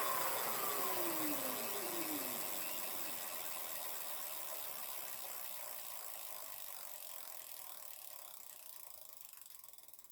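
A Fastbike electric bicycle motor, being checked for a fault, spins up with a mechanical whir and ratcheting gear sound that stays steady and slowly fades over several seconds, with no talking.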